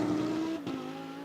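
A GT2 race car at Spa-Francorchamps holds a steady, buzzing engine note, then cuts out briefly with a sharp spit as traction control intervenes before the drone resumes, slightly quieter and more distant.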